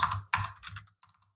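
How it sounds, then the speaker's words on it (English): A short burst of typing on a computer keyboard, a few quick clusters of key clicks that grow softer and sparser toward the end, close and quiet with no voice. "So if I go to Google and just type in fluid mechanics"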